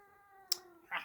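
A pet cat yowls in short bursts, a drawn-out tonal cry followed by a sharp yelp and a louder rising call, fairly close and with nobody talking.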